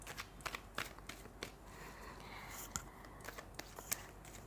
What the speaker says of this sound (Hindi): तो आइए सबसे पहले हम कार्ड्स निकाल लेते हैं